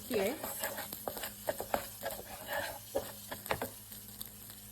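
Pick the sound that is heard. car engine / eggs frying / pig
eggs frying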